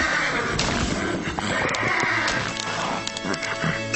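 A horse whinnies amid a busy, dense scene with other animal and background sounds, the neigh rising briefly over continuous clatter and murmur.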